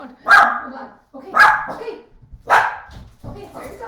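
Several dogs let out indoors bark in loud, repeated bursts, about four sharp barks spaced roughly a second apart, close by, with a voice talking around them.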